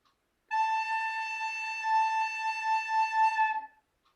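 A single sustained musical note A played in a third-grade music lesson, a steady bright tone with a clear pitch and rich harmonics, holding evenly for about three seconds before stopping cleanly, alone with no voices.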